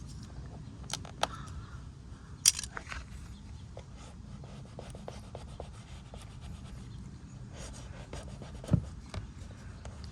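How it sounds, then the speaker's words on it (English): Squeegee rubbing and smoothing a vinyl car wrap back down after re-gluing a lifting edge, a steady soft scraping rasp with a few sharp clicks and scuffs, close up with no talking. "I can just squeegee it back up"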